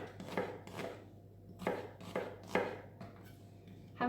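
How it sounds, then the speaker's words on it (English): A knife chopping onion into strips on a board, sharp distinct cuts falling in an uneven rhythm, about six or seven strokes, close and clean with no talking. "Let's get some nice strips of onion here."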